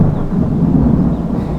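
Loud, close thunder during a storm, a heavy low rumble filling the moment continuously, with faint rain hiss in the background and no talking.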